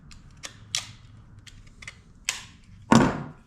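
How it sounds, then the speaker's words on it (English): A wooden handle being driven into a Kelly Tasmanian splitting axe head, with a series of sharp, close knocks spaced irregularly, ending in one heavier, louder strike. "I can hit on the front and then hit on the back, and you can hear it."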